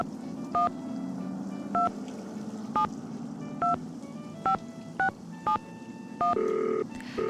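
Touch-tone keypad beeps in the Nancy Drew: Danger By Design video game, about nine separate dual-tone presses spaced irregularly, then a longer steady tone at the end, over a low background hum.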